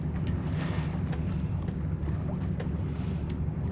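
Steady wind buffeting the microphone on a single-handed sailboat on a beam reach, a constant low rumble and rush with no letup, loud and close, with no talking.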